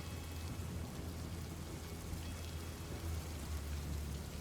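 Steady rain falls as background ambience in a Pathfinder virtual tabletop game, a soft continuous hiss with no talking.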